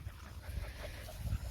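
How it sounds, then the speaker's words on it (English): A female Maremma dog makes soft whimpering, panting vocal sounds close by, a low continuous murmur with small swells, no other voices present. "my very talkative dog. She's just chit-chatty."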